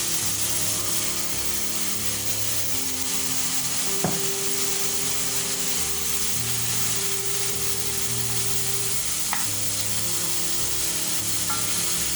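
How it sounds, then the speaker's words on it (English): Red beetroot and pumpkin fry in a pan, giving a steady close sizzle with a few faint clicks of utensils and no talk. "now I'm going to add the beetroot, red beetroot"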